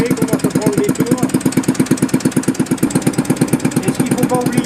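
An old R&B industrial gas engine running and picking up revs, its steady, loud, rhythmic chuffing beats repeating evenly and close by, with someone talking over it.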